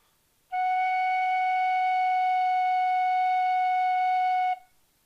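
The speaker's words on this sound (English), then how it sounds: "this note is F sharp" A single sustained F sharp on a tin whistle, a clear, pure tone held steadily for about four seconds and then cut off cleanly, alone and close.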